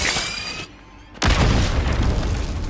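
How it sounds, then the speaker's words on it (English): A phaser blast sets off a sudden, loud, roaring explosion in a Star Trek: Picard season 2 episode 9 scene, following a brief hush and then rumbling on steadily. "the explosion probably should have done some damage to him because it was right above them"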